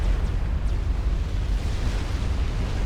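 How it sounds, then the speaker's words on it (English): A nuke detonating in the Supreme Commander: Forged Alliance video game, a deep, continuous rumbling roar that holds steady and loud throughout without distinct separate blasts. "we hear a explosion, it's just another of Khal's nukes going off"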